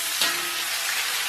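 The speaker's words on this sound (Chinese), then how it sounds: "然后把葱姜下到锅中" Scallion and ginger hit hot oil with pork belly in a wok, giving a loud, steady close sizzle with a brief sharper burst near the start.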